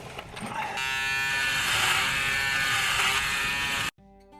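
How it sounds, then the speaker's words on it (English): An electric shaver buzzes steadily during a shave inside a parked camper van, a close, continuous whirring drone that starts softer, swells, holds for several seconds, then cuts off abruptly. "Not a bad spot to have a shave either."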